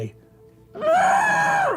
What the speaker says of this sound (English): Lady Aranessa bites down on a ghoul's hand from within the room, screaming at the top of her lungs